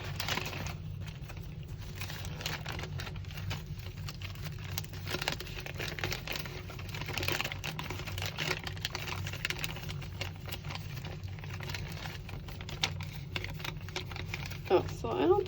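A cut paper bag, being made into a snowflake, is opened up with soft, close crinkling and rustling of paper, quiet and irregular, interspersed with light tapping handling sounds.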